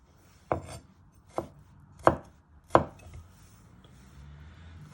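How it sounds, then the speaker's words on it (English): Four distinct knife chops come through up close and fairly loud, spaced about two-thirds of a second apart, as garlic is pressed and finely sliced on a board with no speech. "Now you place your knife over the garlic and you press down. You just want to finally slice it into little pieces."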